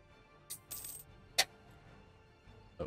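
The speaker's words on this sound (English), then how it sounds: "Opening a drink while we wait there" A can or bottle of red ale being opened close by, with a sharp metallic crack followed by a brief fizzing hiss and a few faint clicks in an otherwise quiet room.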